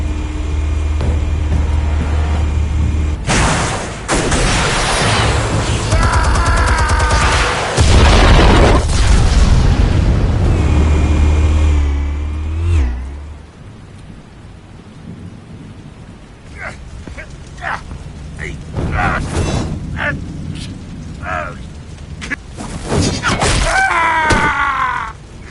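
Explosives detonating in a Batman scene: heavy, loud booming blasts with deep rumble for the first half, then quieter scattered bangs and debris clatter, with brief voices and music-like tones between.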